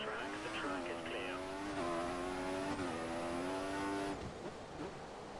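A Formula One race car in the F1 2014 video game pulls out of the pits onto a wet track on full wet tyres, its engine whine climbing steadily through gear steps before cutting off, with hiss from the tyres underneath.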